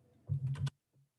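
Quick burst of typing on a computer keyboard, several rapid close keystrokes clustered together, followed by a softer single tap, with no talking.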